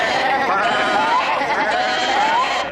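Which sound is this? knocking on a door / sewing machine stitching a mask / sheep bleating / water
sheep bleating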